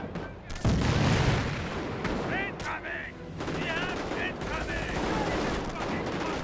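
Decoy artillery barrage in the strategy game Company of Heroes: loud, dense booms and rattling gunfire, a heavy thud early on, then continuous battle noise with short game voices heard briefly over it.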